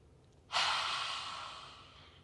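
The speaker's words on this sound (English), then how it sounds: "you're going to inhale through the nose, and then as you exhale, stick the tongue out" A single deep yoga breath, a sharp, loud exhale that starts suddenly and slowly trails off over about a second and a half, close and alone in a quiet room.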